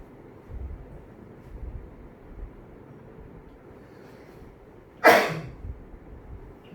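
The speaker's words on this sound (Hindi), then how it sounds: "मैं कह ही रहा था मुझे बड़ी देर से छींक आने वाली" A single loud, sharp sneeze bursts out alone in a quiet room, short and explosive, after a stretch of low background rumble.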